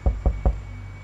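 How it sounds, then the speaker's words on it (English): Three firm knocks on a house door, evenly spaced and close by, then a quiet room tone with no voices. "knocks on a seemingly random house door"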